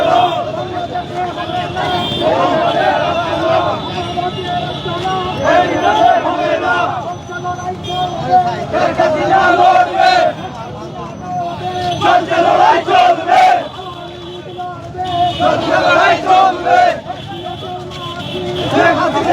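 A large crowd chanting slogans at an Awami League political rally on a street in Sylhet, Bangladesh, with loud rhythmic shouts in repeated bursts over a dense, continuous roar of many voices.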